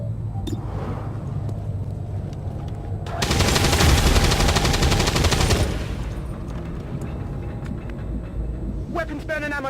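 A loud, dense burst of rapid automatic gunfire in the video game XCOM 2: War of the Chosen, lasting a few seconds between quieter stretches of game ambience and voices.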